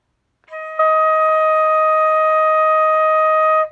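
A flute plays a beginner exercise on E flat, a long sustained tone held nearly four seconds, with faint breaks and soft thumps underneath, sounding solo, steady and close.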